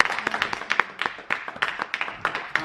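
A church congregation clapping together at a French-speaking service, a lively, rhythmic run of claps from a crowd, fairly close, with faint voices mixed in.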